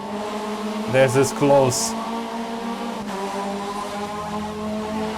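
Several Skoda Octavia race cars run close together on a track, engines droning and shifting pitch with sharp revving bursts and a brief tire squeal, under a commentator's voice.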